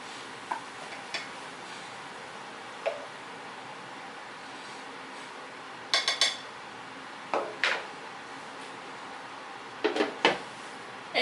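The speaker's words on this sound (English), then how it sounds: "I'm going to scoop some of my rice into a bowl" A spoon scrapes and taps against a bowl as cauliflower fried rice is scooped in, giving sparse light clinks and scrapes in small clusters against a quiet kitchen background, with no talk.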